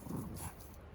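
A dog named Biggles gives a short, faint burst of excited whining and yipping vocalisation, close by but quiet, lasting about a second.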